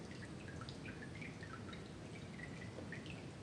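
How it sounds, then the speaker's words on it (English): Water dripping off a wet inflatable, a steady patter of small drips and trickles, close and continuous for a few seconds with no talk. "Let it all drip off him."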